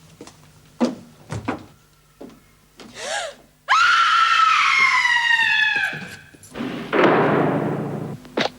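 A woman screams loudly in a prison drama scene, a long piercing shriek that breaks into a second cry, with thumps and door bangs around it.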